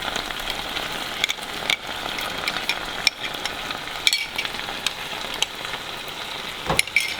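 Red curry chicken with coconut milk is stirred in a pan, a close, steady sizzle broken by repeated scraping strokes of the utensil against the metal.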